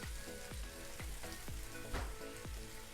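Spices and beaten milk cream sizzle and fry in a pan on low heat for a mushroom do pyaza, with a steady crackling hiss and a spoon scraping and stirring in a regular rhythm of roughly two strokes per second.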